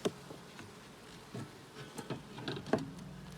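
Bees buzzing around a beehive on a small farm, a soft steady drone with individual insects passing close by and occasional light taps, fairly quiet with no talking.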